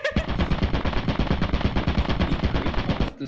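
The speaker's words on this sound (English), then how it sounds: "This turret is a Freddy Fazbear" Video game turret fire hammers out as a loud, steady rapid stream of shots for about three seconds, then cuts off abruptly.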